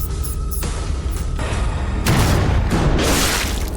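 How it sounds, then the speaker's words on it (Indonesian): An advanced weapon fires in an action film scene, with heavy booming blasts and bursts of noise that swell loudly across several seconds over a tense soundtrack. "Senjata canggih milik nomor 13 menembak."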